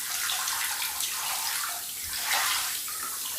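Hot water runs steadily from a tap or shower in a bathroom, a continuous broadband splashing hiss with gentle swells in intensity, close and alone with no voices.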